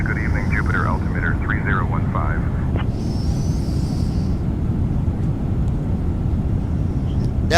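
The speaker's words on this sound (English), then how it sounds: "That was a flawless takeoff." Jet airliner climbing after takeoff, a steady loud broadband engine roar filling the cabin throughout, with radio chatter and voices over it.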